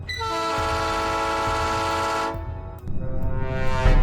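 A train blares its horn in a long, loud, sustained tone as it rolls over a robber crossing the tracks, then the horn cuts off into heavy rumbling and clattering wheels.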